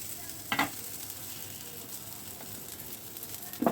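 A veg kabab shallow fries in a pan over lowered gas, giving a soft continuous sizzle with a few brief clinks and scrapes from stirring.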